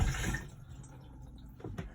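A motorhome cassette toilet in a Benimar camper is flushed with pumped flush fluid: a short gush of water at first, then a softer trickle and faint splashing, quiet and close.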